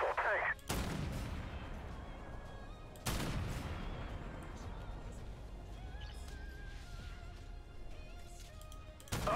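Loud tank cannon shots boom in the Armored Warfare video game, two big blasts a few seconds apart followed by long rumbling decay and scattered battle noise, with a voice speaking in between.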